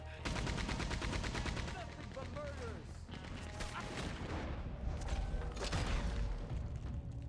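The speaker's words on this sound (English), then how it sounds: "So now they got a guy in a Gatling gun." Rapid Gatling gun bursts in Red Dead Redemption 2, dense mechanical rattling fire with sharp cracks and echoing gunshots, loud and continuous across several seconds among other battle noise.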